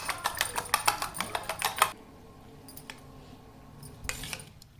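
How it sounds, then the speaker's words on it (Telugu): Eggs are whisked rapidly in a bowl, producing a fast run of crisp clinking taps for about two seconds, then a few scattered knocks after a pause, with no talking. "ఇప్పుడు ఈ ఎగ్స్ని బాగా బీట్ చేసుకుంటాం."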